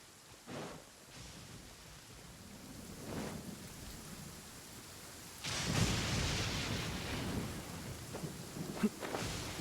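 Thunder rumbles and rain pours in the video game Genshin Impact, with a low roll early on, a louder crack and surge near the middle, and steady rainfall hissing throughout, with no voices.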